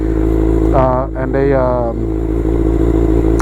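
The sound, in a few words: Suzuki GSX-R600 motorcycle engine running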